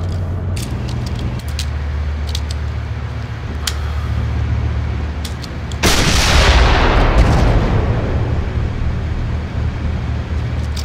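Tank combat in the Steel Beasts Pro simulator: scattered distant shots crack over a low engine rumble, then a single heavy cannon blast booms loud near the middle and rolls away slowly.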